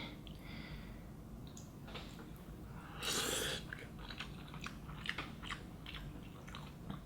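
Close, quiet chewing of thick Nongshim Shin Ramyun kimchi instant noodles, soft wet bites and small crunches repeating with a louder slurp-like burst midway, no talking.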